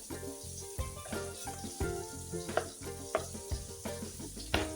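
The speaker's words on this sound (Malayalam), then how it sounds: "നമുക്ക് സ്വല്പം എണ്ണയും കൂടെ ഒഴിച്ചു കൊടുക്കാം." Mustard oil heating in a pan after frying rohu fish for curry gives off a dense, steady sizzle, with soft rhythmic stirring or clicking noises and no talking.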